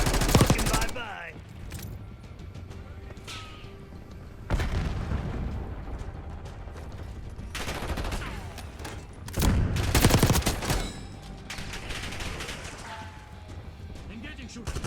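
Heavy bursts of gunfire, booming sniper shots and explosions erupt in a Call of Duty: Black Ops 6 match, loud clusters separated by quieter stretches, with game voice lines and player chatter mixed in.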